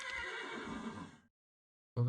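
Horse from the Mo' Creatures mod in Minecraft gives a long, loud, close whinny, then after a moment of silence a second neigh begins abruptly.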